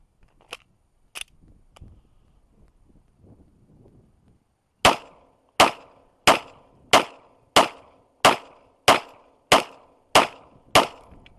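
A Polymer80 G34 pistol being broken in fires a rapid string of sharp, loud shots after a few earlier isolated cracks and some quiet handling noise, the later rounds evenly spaced about one per second.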